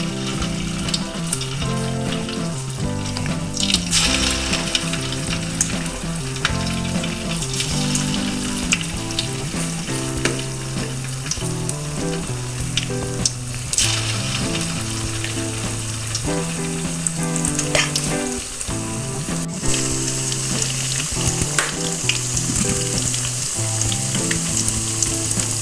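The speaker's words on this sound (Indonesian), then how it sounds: "Kemudian kita goreng kecil-kecil ya Bunda." Tofu fritters (bakwan tahu) fry in hot oil with a steady, dense sizzle and crackle, heard close and continuous, while music plays along underneath.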